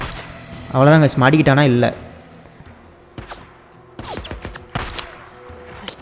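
Pistol gunshots in the PlayStation game Days Gone: someone talks briefly, then several sharp, separated shots crack out in an irregular run over the game's background.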